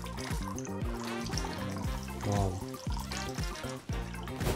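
Orangina poured into the liquid of a PC aquarium, a close gurgling, bubbling pour with rising tones as the drink trickles and drips in, joined by faint talk.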